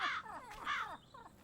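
Crow cawing: two loud, harsh caws followed by a fainter third call, close by, with no talking.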